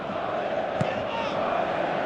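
A stadium crowd in the PES 2017 football video game keeps up a steady, loud roar, with a brief sharp knock partway through.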